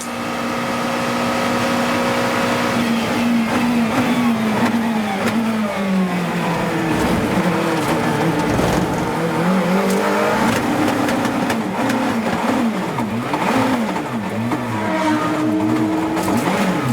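A race car at Monza with a failing gearbox, its engine revving loudly and continuously up and down through repeated gear changes out of the first chicane, close and alone.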